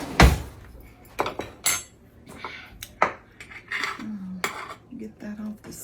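A spoon scraping and knocking food off the side of a dish at a family lasagna dinner, a handful of sharp clinks and scrapes of metal on crockery, close, with brief murmured voice in between.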